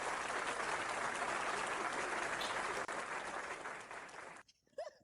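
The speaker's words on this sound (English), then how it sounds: "can we give this guy a round of applause?" A crowd applauds loudly and steadily, the clapping fading away near the end as a voice begins to speak.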